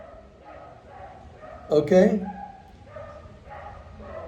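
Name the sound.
dogs barking outside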